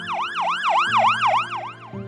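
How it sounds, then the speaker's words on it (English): An ambulance siren wails in a fast, repeating up-and-down pattern, loud and fairly close, with a low engine hum underneath. "We hear the ambulance."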